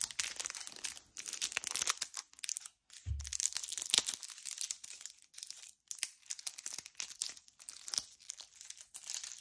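A chocolate wrapper being torn open and crinkled by hand in a kitchen, with busy crackling and rustling bursts continuing for several seconds at close range, no talk.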